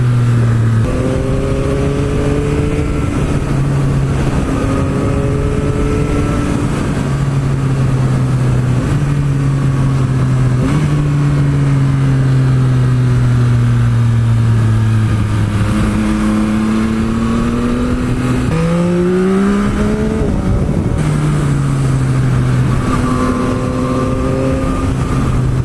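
Yamaha MT-09 SP motorcycle, a 2021 model, engine revving hard while riding, with rising and falling throttle sweeps and gear changes under steady wind rush, loud and close.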